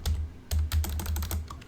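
Keys clatter on a computer keyboard as a command is typed during Rhino 3D jewelry CAD modeling of a three stone ring, a quick run of close, crisp taps in uneven bursts with no talking.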